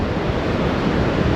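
Ocean waves break on a Fuerteventura beach in a steady, loud wash of surf with wind buffeting the microphone, no voices.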